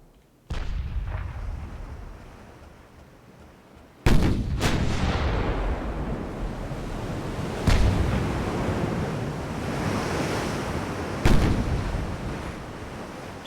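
Long-range 6-inch naval gun battle in a warship video game: a low rumbling sea-and-wind bed broken by several loud, sharp gun reports, one about every few seconds, each trailing off into a rolling boom.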